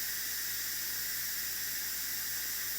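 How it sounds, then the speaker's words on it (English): Steady, broad hiss of steam venting from an Instant Pot pressure cooker during release, a continuous close rush with no breaks and no voices, a faint low hum underneath. "It seems like the more full it is, the longer it takes to release that steam."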